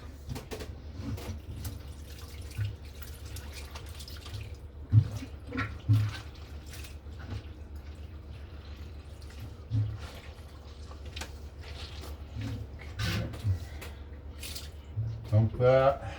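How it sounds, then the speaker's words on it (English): Whey drains out of cheese curds, a soft dripping and trickling of liquid with occasional light splashes, close by, while a person talks over it at times. "Let the whey drain out."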